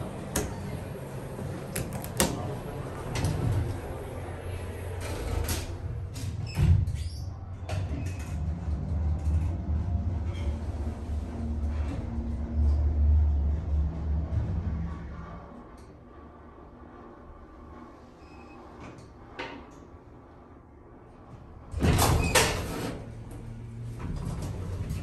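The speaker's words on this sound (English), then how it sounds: "These definitely used to be Westinghouse elevators." A Westinghouse hydraulic elevator at the Hyatt Regency in downtown Houston hums and rumbles steadily through its ride, with intermittent mechanical clunks and a louder burst late on as the doors slide, heard alone and close.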